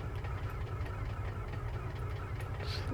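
A single aircraft engine in Microsoft Flight Simulator 2024 runs steadily after start-up, a dense low rumble with a rough, knocking texture that stays loud and even throughout, with no talking.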